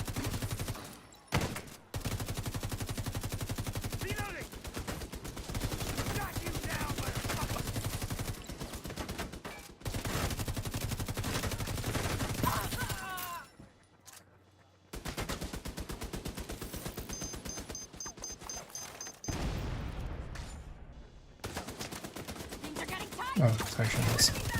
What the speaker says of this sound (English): At least this is just a bullet firing thing instead of a rocket firing thing.